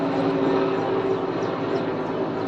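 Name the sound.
helicopter flying overhead carrying water to a forest fire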